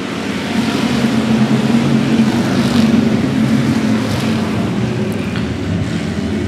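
Stock cars race on a speedway oval, a dense, loud roar of many engines that swells and holds steady as the pack sweeps past, with no talking.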